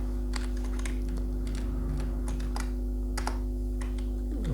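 Irregular bursts of clacking keystrokes on a computer keyboard while C++ code is typed, close and fairly quiet over a steady low electrical hum.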